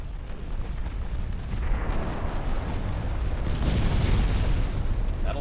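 Battleship guns, including 11-inch main batteries, fire during a naval battle in Ultimate Admiral Dreadnoughts, heavy booming salvos that roll into a dense, sustained rumble with blasts layered over one another.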